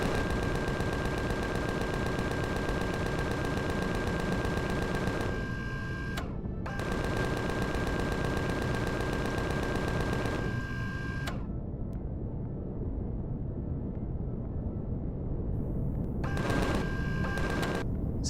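Continuous rapid automatic gunfire in Empyrion Galactic Survival, long steady buzzing bursts of several seconds each, broken by short pauses and a final shorter burst, dense and close.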